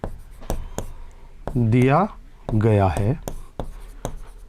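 Pen or chalk strokes tap and scratch in short bursts while a solution to a class 12 matrix maths problem is written out, heard close under someone speaking Hindi.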